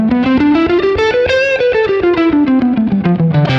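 Distorted electric guitar with chorus effect playing a fast run up and back down a major scale pattern, loud and alone.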